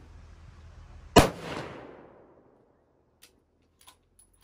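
A single loud rifle shot from a Tikka T3X Tac A1 firing 140 grain ELD Match ammunition, a sharp crack followed by a rolling echo that fades over about a second, then a few faint clicks from handling.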